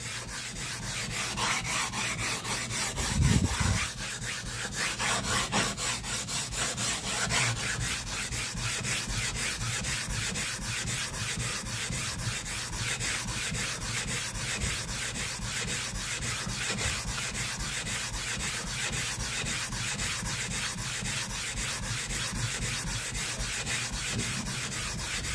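A sharpening stone is steadily rubbed to convex its face, making a continuous gritty, rasping scrape that runs evenly for the whole stretch, fairly close, with no talking.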